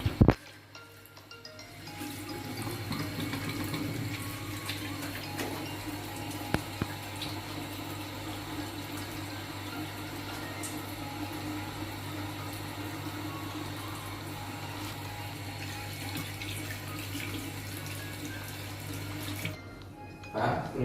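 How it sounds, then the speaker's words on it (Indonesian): Hands being washed under a running tap during a nursing stoma-care practical, a steady close rush of water that begins after a brief knock, runs for about seventeen seconds and then cuts off. "permisi untuk cuci tangan dulu Pak ya"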